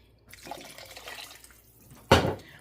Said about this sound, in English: I went ahead and put 2 canning jars full of water in there